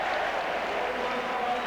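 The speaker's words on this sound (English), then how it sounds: "just listen to the crowd's appreciation of Glenn Hoddle" A football crowd at a Spurs versus Newcastle United match roars and applauds for Glenn Hoddle of Tottenham, a dense, steady wash of stadium noise with a commentator's voice faintly underneath.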